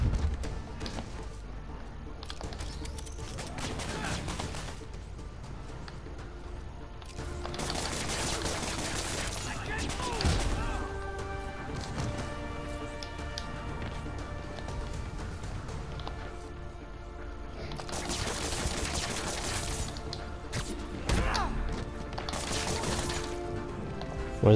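Rocket fire and explosions in the Spider-Man PS4 video game: dense, sustained bursts of blasts and rapid gunfire-like barrages, loud and continuous with brief lulls between heavy volleys.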